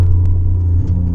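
Alfa Romeo 147 GTA on a road test, its engine giving a loud, steady low rumble heard close and inside the car, with no talk over it.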